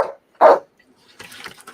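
A dog lets out two short, fairly loud barks close by, separated by a brief gap, followed by faint soft rustling and background noise.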